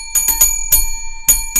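An off-kilter bell rings in a pub at closing time, several sharp metallic strikes in an uneven cluster, then a pause and two more, loud and close with a bright ringing tone and no talk over it.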